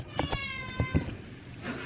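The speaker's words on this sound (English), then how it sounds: "I'm probably going to be in a battle with this cat for a meowing" A cat meows indoors in a sewing room, giving a couple of short, close, tonal calls early on, then fainter bumps and a softer cry near the end.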